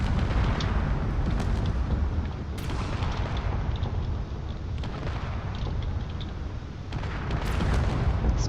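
A frigate in Drone Wars is hammered by missiles and blows apart, a continuous roaring rumble of blasts and booms, loud and sustained, with intermittent sharper explosive bursts rising over it.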